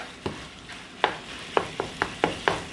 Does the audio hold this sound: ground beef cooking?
yes